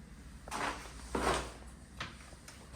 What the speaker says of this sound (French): Est-ce qu'on ferait chacun des tiroirs?